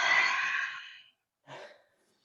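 A long, slow exhale followed after a pause by a shorter breath, close and soft, as someone breathes deliberately during a yoga exercise.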